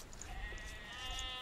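Sheep bleating in a strategy video game, a few short bleats over a soft ambient game backdrop, fairly faint.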